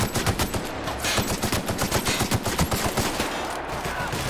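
Sustained automatic gunfire in a battle from The Outer Worlds, loud and close, with rapid rhythmic shots pounding continuously without a break.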